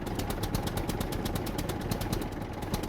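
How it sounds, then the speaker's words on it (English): A car engine idles in the survival video game SCUM, a steady close rumble with a fast, even pulsing chug that holds throughout with no speech. "Engine was still running."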